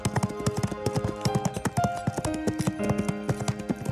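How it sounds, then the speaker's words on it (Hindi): Cartoon horse hooves gallop in a quick, steady clip-clop as the rider heads for the forest, loud and close, set against a melodic music backing. "ठाकुर भानु प्रताप घोड़े पर सवार होकर सीधा जंगल की ओर निकल"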